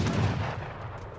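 Cannon fire in a 2v2 match of the Age of Empires III strategy game, a loud booming blast up close that rolls off into a fading rumble.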